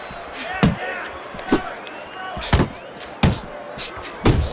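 Punches landing in the boxing video game Fight Night Champion, sharp thudding impacts repeating roughly every second under a commentator's steady voice and crowd noise.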